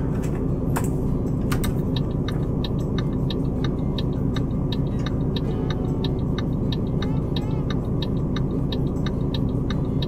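A truck in Euro Truck Simulator 2 drives through Vienna at night with a steady low engine drone, a regular light ticking, like a turn signal, running over it throughout; no talk.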